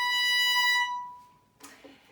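A violin sounds a C flat on the E string as one steady, bright sustained note that fades out, followed by a faint brief rustle or breath afterwards.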